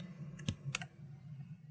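A few sharp keyboard key presses, two or three quick clicks close together, stand out over a low steady hum in a quiet room.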